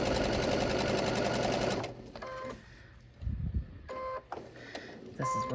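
A sewing machine stitches a fabric casing on a Halloween project, running in a fast steady whir for a couple of seconds, then stopping, followed by softer handling noises and brief electronic beeps from the machine.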